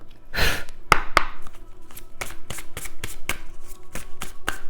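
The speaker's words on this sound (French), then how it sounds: "je remets un peu de l'ordre dans mes cartes" Oracle cards are shuffled by hand in a steady series of crisp riffling snaps and soft slaps, close and clear, repeating about a dozen times over a faint background hum.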